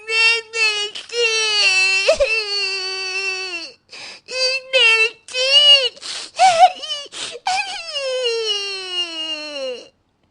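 A little girl cries in a Hindi comedy audio drama, with loud, sustained wailing sobs broken by short gasps and whimpers across the whole stretch, close and alone.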